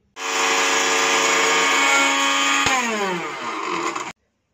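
An electric grinder whirs loudly and steadily as it grinds black pepper, then its pitch drops partway through before the motor cuts off abruptly.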